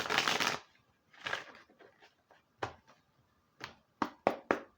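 A double deck of Kipper cards being shuffled close up: a long riffle burst, a shorter second one, then a string of sharp taps and knocks as the cards are squared.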